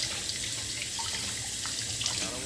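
Running water from a tap rinses crappie fillets in a sink, a steady, close hiss of flowing water with faint splashes, no voices.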